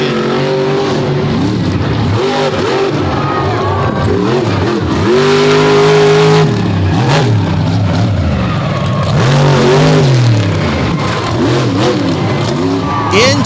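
The Shaker monster truck roars through a freestyle run at Hagerstown Speedway, its engine revving hard and dropping in repeated surges, loud and continuous over crowd noise with an announcer talking throughout.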